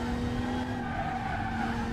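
Tires squeal and skid on a DTM race car in a racing video game, a steady sustained screech over engine drone lasting the whole two seconds, with no talking.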